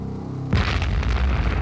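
A balloon bomb explodes beside a church in Bly, Oregon, a deep boom that swells suddenly after a low rumble and then roars on loud and broadband.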